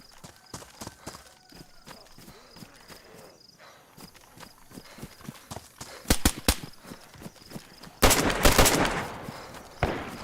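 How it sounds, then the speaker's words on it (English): Gunfire from different sides crackles in DayZ on the Livonia map: scattered sharp shots and short rapid bursts, some distant and some closer, with a loud volley near the end over footsteps. "Shots from different sides."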